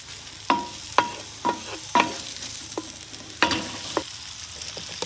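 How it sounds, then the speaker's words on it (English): Chorizo browns in a paella pan on an Oklahoma Joe's Blackjack grill, a soft sizzle running under a series of sharp metal scrapes and clinks from stirring, spaced irregularly about half a second to a second apart. "All I want to do is create a fond on the bottom of this pan. So I'm going to just kind of brown it off a little bit."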